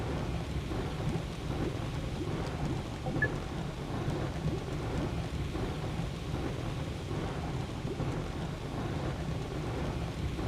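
Green lightning storm in the video game Astroneer, with continuous rumbling thunder and a steady rain-like wash, dense and even throughout with no talking.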